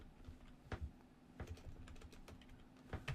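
Typing on a computer keyboard while entering an Excel formula: a steady stream of soft, close keystrokes with a few sharper clicks, alone without talk.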